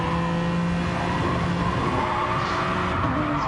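A GT1 race car engine in a racing game holds steady at high revs as the car runs through the Lago Maggiore GP circuit, loud and constant, with a faint tire squeal and other cars running nearby.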